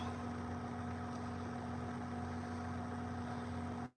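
A large John Deere tractor engine idles with a steady low, humming drone, loud and even throughout before cutting off abruptly at the end.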